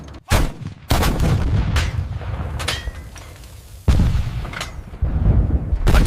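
Heavy artillery fire booms through a tank battle between Soviet armor and German guns, a series of loud, sharp blasts roughly a second apart, each with a rumbling tail and crackling debris.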